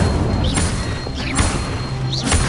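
Fire spells cast in the game Hogwarts Legacy burst out as several booming, crackling blasts with sharp swishes, loud over a constant low rumble.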